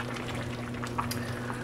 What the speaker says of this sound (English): just let it kind of bubble away and get it to where you like it